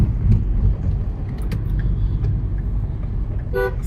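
City traffic on local roads in Udaipur rumbles along as a low, continuous engine drone, with a sharp car horn blast cutting in near the end.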